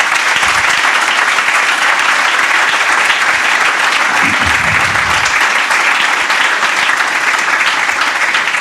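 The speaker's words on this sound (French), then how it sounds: "Est-ce qu'on peut acclamer nos panélistes?" A conference audience gives the panelists sustained, loud applause from a full room, the clapping dense and even throughout with no break.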